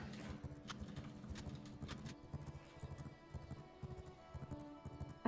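Stolen horses ridden in the video game V Rising, hooves clip-clopping in a quick steady patter with game ambience, moderately close and continuous, no talk.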